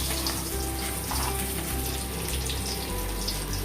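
Kofta frying in hot oil, four at a time in a pan for a soya korma, gives a steady, loud, close sizzle and crackle that carries on without a break and with no talking.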